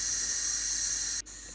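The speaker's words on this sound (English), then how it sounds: "So you can probably hear the steam leaking out at the moment." Steady, loud hiss of steam escaping from a coffee machine with a faulty pressure stat, continuous and close, dropping briefly near the end before resuming slightly quieter.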